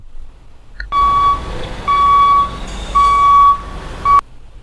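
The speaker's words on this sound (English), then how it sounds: "This is a pickup truck." A pickup truck sounds a loud electronic reversing beeper: four steady tones with short pauses between them, against a low idling rumble.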